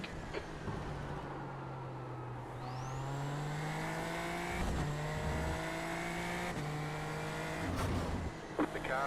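A race car in a sim racing game revs hard through its gears, each upshift dropping the pitch before it climbs again, loud and close, a rising engine whine repeating over about nine seconds.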